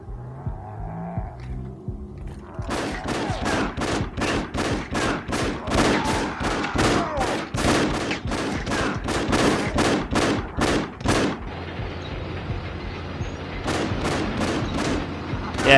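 Rapid bursts of gunfire from mutants shooting in the video game Afterfall InSanity, loud sharp repeated shots in close succession, pausing briefly before another volley near the end.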